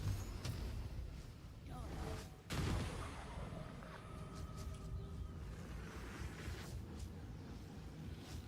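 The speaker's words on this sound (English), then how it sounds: "Oh, detonation." An explosion detonates in the video game Baldur's Gate 3, a sharp boom followed by rumbling and crackling debris, with game effects and tonal sounds trailing off afterward.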